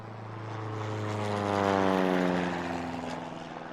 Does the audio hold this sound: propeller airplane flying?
yes